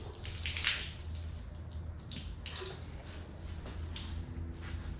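Leftover engine coolant spills and splashes while a turbo is pulled off a 5.9 diesel, a quiet, steady pour with faint dripping and trickling water sounds in a workshop.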